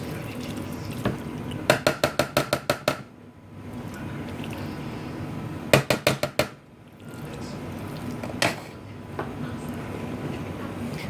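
Orange chicken being stirred and mushed around in a pan, with a sizzling cooking bed broken by rapid runs of sharp scraping clacks of a utensil against the pan, plus a few isolated knocks.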